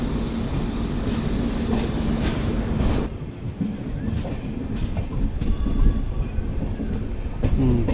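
The 22616 Intercity Express with new LHB coaches rolling over rails near Tirupati, a steady close rumble with rhythmic clickety-clack of wheels on joints and faint squeals.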